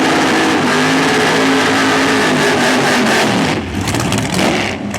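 No-prep drag race car engine revving hard near its 6,200 RPM rev limiter, loud sustained roar with the throttle blipped and chopped toward the end, no voices.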